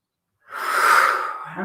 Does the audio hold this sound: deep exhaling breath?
yes